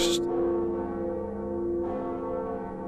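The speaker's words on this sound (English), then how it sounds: "We can actually pull this lever and ring the Bell of Awakening." The Bell of Awakening in Dark Souls rings out as a lever is pulled: one sustained, resonant metallic toll with a long, steady ringing decay, loud and alone.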